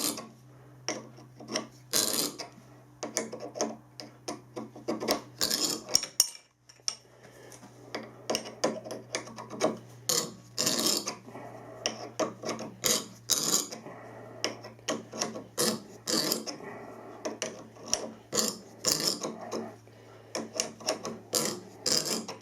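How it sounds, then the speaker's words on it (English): Hand-turned tap cutting a thread in a solid workpiece on a lathe, delivering irregular rasping, creaking strokes with short gaps between turns over a low steady hum, close and moderately loud. "A little bit of down pressure around with the quill, and then gently screw the tap in."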